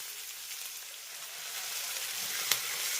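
Chow mein sauce with soy sauce and vinegar sizzling in a hot pan, a steady hiss with one sharp clink near the end.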